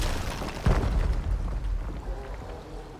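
An obelisk is blown apart in the fantasy video game Pathfinder: Wrath of the Righteous, a single loud booming explosion that rumbles and fades into a lingering low crackle.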